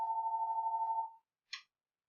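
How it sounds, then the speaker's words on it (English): A phone rings in a quiet room: one long steady electronic tone lasting about a second, then after a brief pause a short, brighter chirp, with nothing else heard. "why does the phone always gotta ring when you're trying to do something?"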